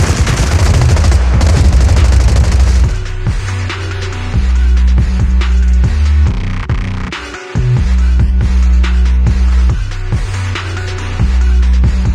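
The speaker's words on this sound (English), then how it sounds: "Gunfire? This pattern. Suppressive marching fire." Rapid bursts of gunfire in the game Zenless Zone Zero crackle loudly, with sustained automatic fire giving way to choppy, rhythmic volleys and brief pauses.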